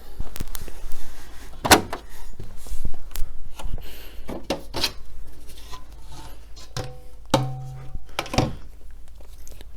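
Side panel of a 2009 Mac Pro tower being opened, giving several sharp metallic clunks and clicks with a latch snap and a hard knock, close by with light handling noise between.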